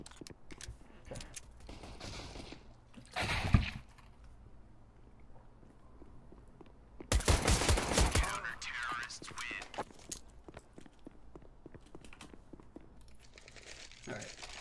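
Gunfire during a Counter-Strike pistol round on the Nuke map: one sharp burst, then a louder cluster of rapid shots a few seconds later, surrounded by quiet footsteps and clicks.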